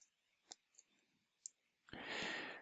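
Mouse clicks in Power BI desktop software, a few sharp isolated clicks spaced apart, close and fairly quiet, followed by a brief burst of louder broadband noise.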